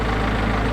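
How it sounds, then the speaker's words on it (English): Tractor engine running steadily with a tiller attached while tilling up a front lawn, a close, continuous low rumble with an even idling-like drone and no talk. "when you have a tractor with a tiller, you just can't help yourself"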